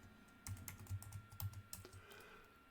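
Keys clatter on a computer keyboard as a new password is typed, a quick irregular run of light taps lasting a couple of seconds, close and fairly quiet with no talking.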